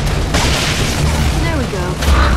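Heavy Boom Shot blasts from a Gears of War free-for-all match, a loud booming shot near the start and another near the end under dense game noise.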